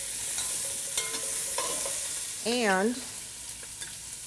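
Chopped onion and carrot fry in lamb shank drippings with a steady, close sizzle and light stirring, while a voice briefly speaks over it near the middle.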